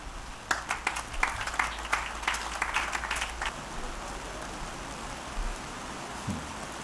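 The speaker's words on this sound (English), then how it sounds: "I see the rain has intensified with my coming to the podium." Rain falling during an outdoor land-transfer ceremony at a university campus, a steady hiss of drops with a burst of scattered patter and clapping-like taps early on, fading to a soft continuous wash.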